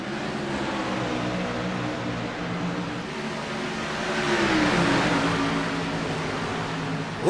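Race cars launch off the start at The Rock in a Rising Stars Series race, a dense, loud engine drone that swells as the pack accelerates away together.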